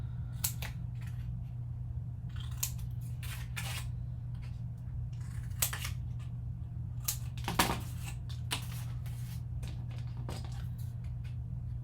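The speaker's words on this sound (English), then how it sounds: "We're going to cut out the corners." Scissors snip through paper or card while cutting out the corners of a travel trunk album box, a series of short, crisp cuts spaced irregularly over a steady low hum, close and moderately quiet.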